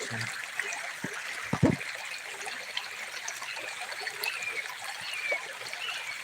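Creek water flowing steadily during gold panning outdoors, a continuous close babbling trickle with a few small splashes and knocks, brief speech in the background.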